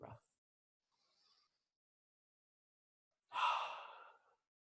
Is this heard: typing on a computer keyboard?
no